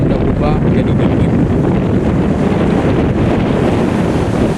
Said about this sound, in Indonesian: Angin sekarang berubah jadi dingin, tapi bukan dingin yang menyakitkan, lebih kayak pelukan angin laut gitu.